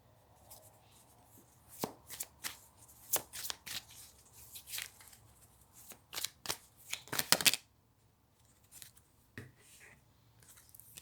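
Tarot cards being shuffled by hand in a series of crisp riffling bursts, close and fairly quiet, with short pauses between handfuls and no talking.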